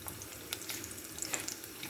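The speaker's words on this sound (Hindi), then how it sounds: "प्याली लग रही थी कि साफ नहीं है तो मैंने इसको धो दी" Tap water runs steadily into a sink as a small bowl is rinsed clean in a home kitchen, with soft splashing and a few light clinks of the bowl under the stream.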